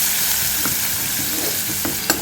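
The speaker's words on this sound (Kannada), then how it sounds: "ಅದಾದಮೇಲೆ ಇದು ಶುಂಠಿ ಮತ್ತು ಹಸಿಮೆಣಸಿನ್ಕಾಯಿ ಹಾಕೋದು ಸ್ವಲ್ಪ ಹೊತ್ತ ಫ್ರೈ ಮಾಡ್ಕೋಬೇಕು" Ginger and green chillies frying in hot oil with cumin and asafoetida, a steady close sizzle with a few stirring scrapes of a spoon in the pan.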